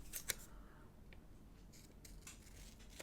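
Scissors snip through planner box stickers, with two quick sharp cuts at the start and softer paper rustles and snips after, close and quiet with no talk.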